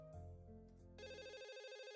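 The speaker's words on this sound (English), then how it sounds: "My mobile phone starts to ring" A mobile phone rings in the visual novel Katawa Shoujo, a bright electronic ringtone melody that shifts into a rapid trilling warble, sounding alone and fairly faint.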